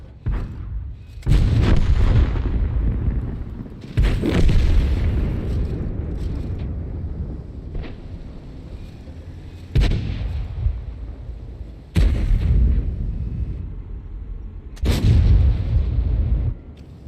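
Heavy tank cannon blasts in World of Tanks, six loud booming shots spaced a couple of seconds apart, each followed by a long rumbling decay, with no talk.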